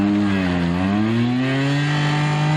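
A Yamaha Majesty 250 trials motorcycle engine, loud and close, dips in pitch as it shifts into third gear, then climbs steadily again at a trials event.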